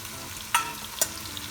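Cumin seeds sizzle in hot oil with a steady, close hiss, broken by two sharp clicks like a spoon tapping the pan.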